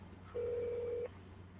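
Single ringback tone of an outgoing telephone call, one steady electronic beep about three-quarters of a second long, faint over a low background hum.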